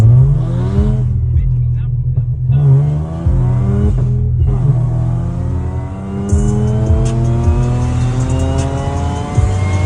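An Audi B8 S4 with a cold air intake accelerates hard, its engine climbing loudly in pitch, dropping briefly at gear shifts, then rising again in a sustained, close roar.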